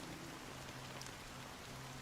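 Rain in the video game Honkai Star Rail, a steady, soft patter of falling drops that holds evenly throughout and sits low in the mix, with a faint musical tone underneath.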